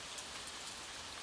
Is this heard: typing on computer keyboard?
no